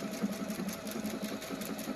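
A Performance Icon sewing machine stitches in reverse at a slowed speed, giving a close, steady, even-paced mechanical patter with no voices.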